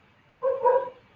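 A single short dog bark is heard indoors, close and fairly loud, standing alone against near silence.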